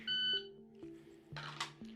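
A shot timer gives one loud, sharp electronic start beep during dry-fire draw practice, followed by quieter clicks and faint room noise.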